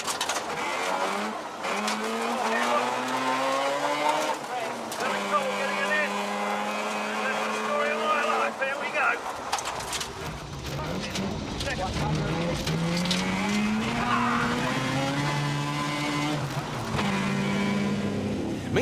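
Hybrid Toyota rally car pushing through a gravel special stage at a 2006 classic rally, its engine loud and close with rising and falling revs, while a commentator talks over it throughout.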